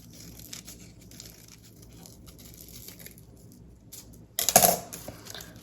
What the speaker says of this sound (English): I'm going to cut little slivers 3/4 of the way down